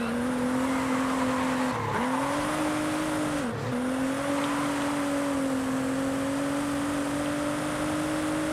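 A modified car in Forza Horizon 5 spinning its tires in first gear, a continuous loud engine drone with squealing wheelspin and two brief pitch dips as it revs.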